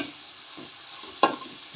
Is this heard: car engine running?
no